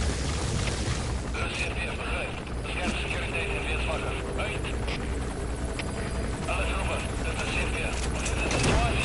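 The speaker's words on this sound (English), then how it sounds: "The chopper will be arriving any minute." A helicopter approaching in Metal Gear Solid V, a steady rotor drone with whining tones layered under game sounds, continuous and moderately loud throughout.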